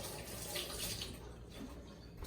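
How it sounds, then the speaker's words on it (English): A kitchen sink tap runs steadily to wet a hand before folding sourdough dough, a soft continuous hiss of flowing water, close but quiet, lasting a couple of seconds. "So I go to the sink, now my right hand is wet"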